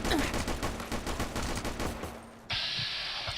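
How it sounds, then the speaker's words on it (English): Rapid bursts of a shoulder-mounted machine gun in Fallout New Vegas rattle loudly and nearly continuously for about two seconds, then a short gap gives way to a sharp blast and a hissing, bright tail. "Sounds like a shoulder-mounted machine gun"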